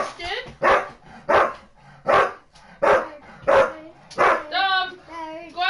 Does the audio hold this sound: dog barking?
yes